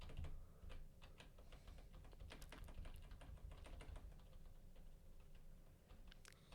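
Repeated taps on a computer's frame button, a quick irregular run of light plastic clicks close to the mic, fairly quiet against a low background hum.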